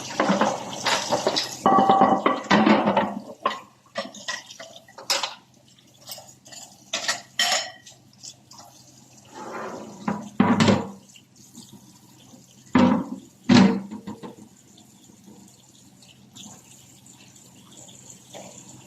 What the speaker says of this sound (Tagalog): naghuhugas ako ng plato